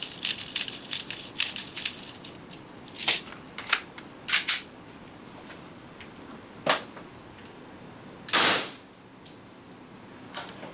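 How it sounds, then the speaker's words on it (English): Green gas airsoft gun fired repeatedly during a magazine test, many sharp cracks in quick irregular bursts early on, then slower scattered single shots over a steady hiss, with one longer louder blast near the end. "we are going to try to fire as many rounds as possible"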